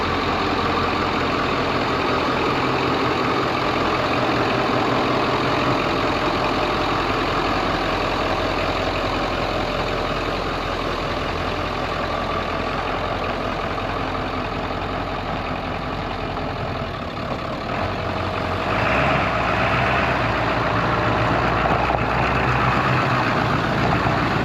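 An OBS-era Ford F250 Powerstroke diesel truck idles steadily and loud up close, its low rumble and clatter running unbroken with no talk over it.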